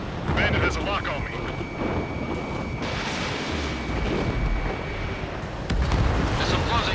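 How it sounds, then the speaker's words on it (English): Missile launch in the jet combat game Ace Combat 7: Skies Unknown, a loud, dense roar and whoosh filling the whole stretch with booming low rumble, under radio chatter from pilots. "Spare 15 launching missile."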